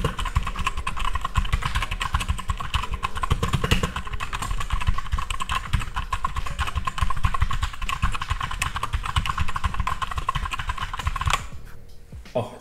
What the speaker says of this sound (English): I'm going to get my mic closer so you can listen to what they actually sound like